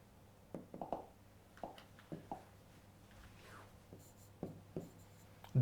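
A pen scratches out a rough diagram on paper in short, irregular strokes and taps with pauses between them, close and fairly quiet over a steady low hum.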